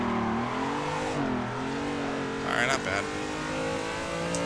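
A race car drifts in the Assetto racing game, its engine droning with rising and falling revs and a brief burst of tire noise midway, while someone speaks over it.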